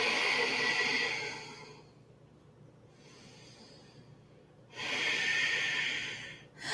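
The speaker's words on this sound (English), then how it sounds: "Continue to breathe." Slow, deep yoga breathing during a goddess flow, two long audible breaths with a forceful airy exhale, close to the microphone, separated by a quieter pause.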